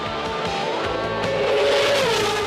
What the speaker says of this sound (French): un accrochage avec Damon Hill jette Häkkinen hors de la piste